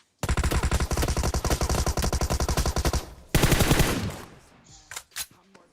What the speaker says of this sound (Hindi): यार कतई टॉमी गन चला रहे भाई